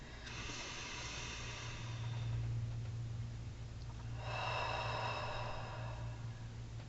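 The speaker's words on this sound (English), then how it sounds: "I invite you to close your eyes and take 3 nice deep breaths" Two long, soft breaths drawn in and let out slowly during a guided meditation, with a steady low hum underneath and a pause between them.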